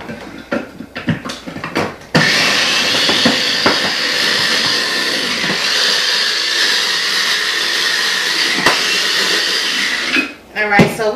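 An electric food chopper, dropped once and running rough, whirs loudly and steadily for several seconds while chopping sausage dressing ingredients, with brief voices and clatter before and after.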